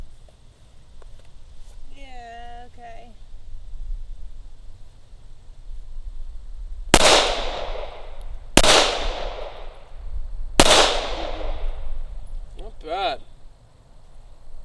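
Three loud handgun shots from a holstered draw ring out at roughly two-second intervals, each a sharp crack with a fading tail, after brief talk.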